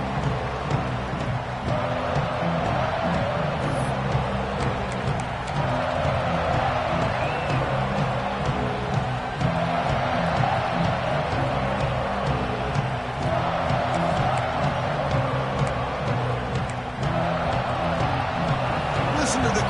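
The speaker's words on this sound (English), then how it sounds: "Listen to the crowd energy here in the early going." A large stadium crowd in a college football video game, LSU versus Nebraska, roars in a constant, dense wall of noise, with cheers swelling and fading throughout and a commentator's voice on top.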